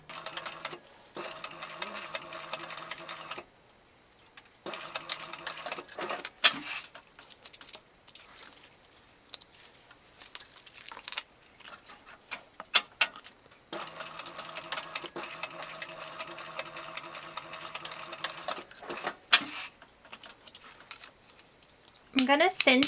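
A sewing machine stitches a backpack seam with a 1/4 inch allowance, its rapid motor-driven patter running in several long bursts separated by pauses, with short reverse runs for backstitching and a faint snip near the end.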